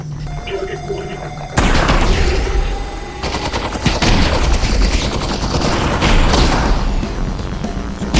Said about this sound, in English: This being a shotgun